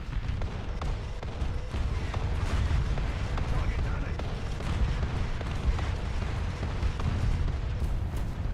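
An artillery barrage in War Thunder during a tank deathmatch on an Italian map sounds as a dense, continuous rumble of booms and blasts throughout, loud and sustained, with talk mixed in.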